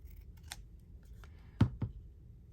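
Scissors snip through paper-backed sticky material during a crafting session, a few soft crisp cuts near the mic, the clearest pair landing close together toward the end, in a quiet room.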